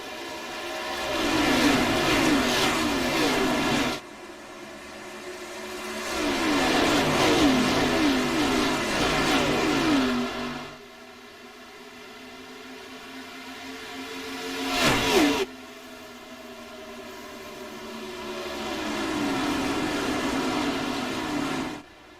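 Pack of race cars lapping the Charlotte oval in iRacing, engines swelling and fading in repeated passes as they sweep by, loud and droning with sharp transitions between cars.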